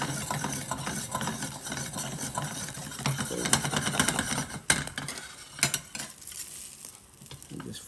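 Bread toasting in butter in a pan gives a steady sizzle, with occasional clicks and scrapes as the slices are moved, close and continuous.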